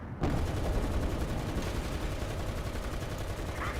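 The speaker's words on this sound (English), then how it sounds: "Somebody else is shooting at him, I think." Continuous heavy gunfire rattles in War Thunder tank combat, a dense, loud, rapid stream starting abruptly and holding steady for several seconds.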